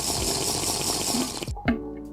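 Water being poured during a short break: a steady close splashing, trickling stream that stops abruptly, followed by a brief gulp or clink in near silence.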